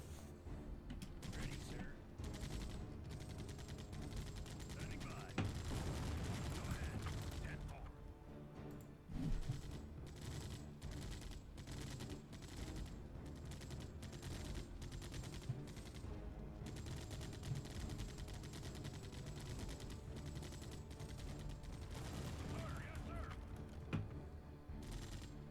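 Machine gun fire from bunkers in the Empire Earth strategy game, quiet bursts of distant rattling shots repeating throughout a busy battle mix, with occasional louder cracks and thuds.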